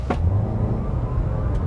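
A GWM Haval H6 PHEV35 hybrid SUV accelerates hard in sport mode from a standstill, giving a steady, loud low rumble and road roar from inside the cabin with no talking.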